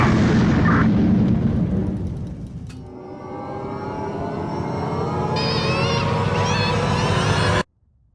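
A loud, sustained booming roar of warheads firing and exploding, a rumbling blast that swells and holds for several seconds before cutting off abruptly.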